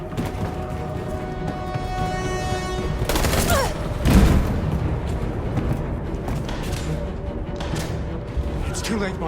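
Video game gunfire from Detroit: Become Human crackles in dense, rapid bursts with a heavier boom near the middle, continuing over a noisy backdrop while voices shout amid the shooting.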